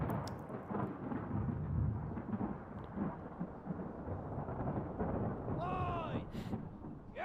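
Thunder rolling through a storm in the ship-bound mystery game Return of the Obra Dinn, a broad, sustained rumble with rain-like hiss, plus a brief rising whistle or creak near the end.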